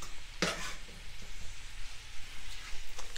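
Garnish for Cantonese fried rice sautéing in a hot pan, a soft continuous sizzle with a brief scraping stir near the start, close and moderately quiet.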